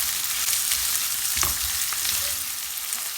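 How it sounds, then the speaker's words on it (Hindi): Sliced onions fry in a pan for a chicken handi, giving a dense, steady sizzle with a brief burst of stirring and scraping midway; no one speaks. "अनियन को अब हमने फ्राई कर लेना है।"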